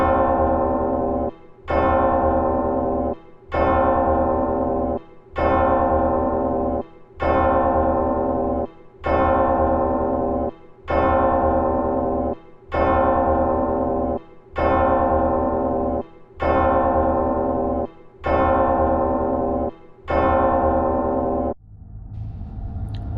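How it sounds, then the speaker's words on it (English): A clock chiming midnight, a long series of loud, evenly spaced resonant bell strokes, about twelve in steady rhythm, each ringing out fully before the next, alone without voices. "This time, the clock had 12 chimes."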